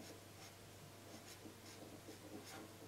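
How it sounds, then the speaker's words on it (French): Pen scratching across paper as a name is written, a steady soft rubbing with short stroke bursts, close and quiet, with no voices. "Et vous écrivez aussi son prénom"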